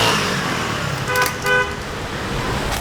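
Car horns toot twice in short bursts over steady engine and road noise in busy street traffic in Nablus, Palestine, with the honks ringing out around the middle of the stretch.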